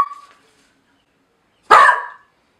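A dog gives one sharp, loud bark nearby, preceded by a faint short sound and otherwise silence.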